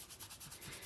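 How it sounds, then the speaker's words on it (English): Someone quickly hand-sands a wooden Santa sign with a soft, steady rasping that is rhythmic and quiet, with no talk. "So I gave it a sand"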